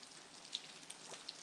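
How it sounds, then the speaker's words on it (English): Steady rain pattering on a surface, a soft constant hiss with a few brighter drip ticks scattered through it, fairly quiet and with no voices. "The rain sound is making me want to pee."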